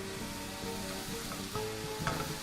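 Beef mince being stirred together with teriyaki sauce in a pan, a steady sizzling and frying hiss with soft scraping from the mixing, fairly even throughout and close by.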